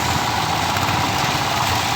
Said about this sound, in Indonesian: Nah, itu dia mesin derek.